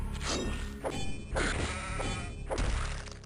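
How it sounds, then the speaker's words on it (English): An angry sheep in a video game bleats in three loud, harsh bursts roughly a second apart, close up, with thumping impacts mixed in. "That sheep was very angry"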